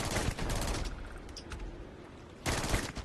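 Video game gunfire aimed at creatures on an alien planet, bursts of rapid shots at the start and again near the end, with quieter rumbling between them.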